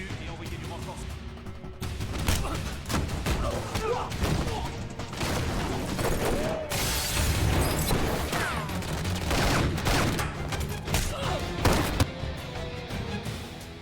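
Bursts of gunfire rip through a film shootout as two men rope down and leap from a building under fire, heavy overlapping shots and booming impacts filling the scene continuously and loudly, with voices faintly mixed beneath.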